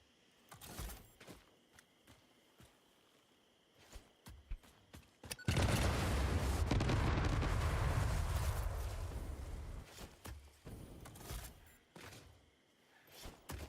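Bombs detonating during landscaping work in the factory-building video game Satisfactory: a sustained, loud rumbling blast roars for several seconds after scattered thumps, then fades back to quieter clicks and knocks.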